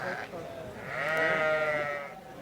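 A ewe at the Royal Highland Show bleats once, a loud, wavering, near call of about a second, over faint background murmur from the showground.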